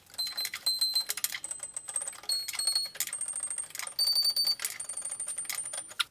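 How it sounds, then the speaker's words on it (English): A harpsichord's C string is being tuned: rapid bright metallic plucks and tapping clicks repeat in uneven bursts, with short tonal rings between them, close and without talk. "I have to tune the C of the keyboard because it's out of the tune"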